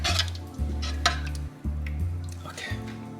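Thai massaman curry stirred and mixed in a pan, with soft scraping and clinking of a utensil over a steady low hum and faint sizzle.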